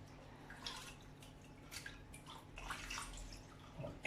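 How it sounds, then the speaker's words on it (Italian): Swordfish roe being rinsed for a few seconds in a small basin of water to remove excess salt, giving faint close sloshes and drips with a soft splash near the end and no voices. "Darò una pulita o sotto un filo di acqua corrente o, come sto facendo io, una piccola bacinella per pochi secondi"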